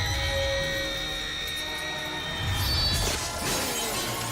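Glass shatters in a dense, sustained crash as Otto's assistant is blasted by broken glass in Spider-Man 2, bright tinkling shards spraying loudly for several seconds over a low rumble before cutting off abruptly.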